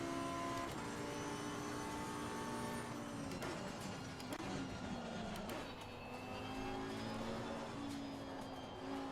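A Lamborghini engine in the Assetto Corsa driving game drones steadily with a smooth, sustained tone that rises and dips as it shifts and revs, loud and continuous with no talk.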